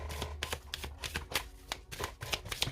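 Oracle cards being cut and shuffled by hand, a close series of crisp riffling flutters and soft slaps in an uneven rhythm, with no one talking.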